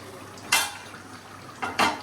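A spoon stirs matchstick potato curry in a cooking pan, with a few distinct metallic scrapes and clanks over a low sizzling hiss.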